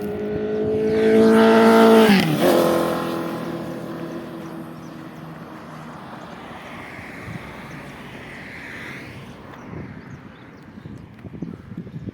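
Truck rumbling past nearby, a loud broadband engine swell peaking around two seconds then fading to a steady distant traffic hum.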